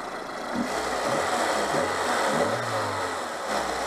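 A warm car engine fitted with a newly replaced carburettor idles and then revs in a few rising and falling surges. The sound is close and continuous, with no talking.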